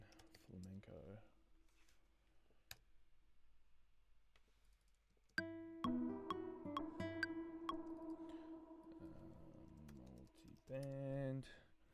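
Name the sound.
typing on a computer keyboard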